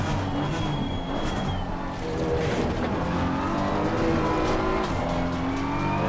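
A BMW M4 race car engine in Assetto Corsa Competizione at Zolder revs loudly and steadily, gear changes and shifting pitch sweeping over a constant mechanical roar.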